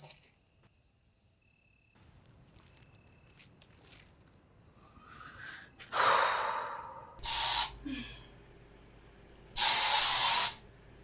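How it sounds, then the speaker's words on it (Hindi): Spray hisses in two loud, bright bursts of about a second or two each, following softer hissing, with a steady cricket-like insect chirp running underneath. "पकड़ो, जाके स्प्रे करो"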